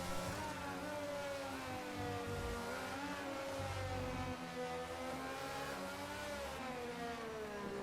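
An onboard Formula 1 race car engine whines at high revs during qualifying in a racing game, with pitch rising and falling through gear changes and a couple of brief low rumbles.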